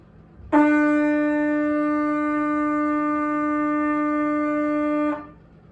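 A single sustained trumpet note E holds steady for about four and a half seconds, bright and clear, then stops cleanly.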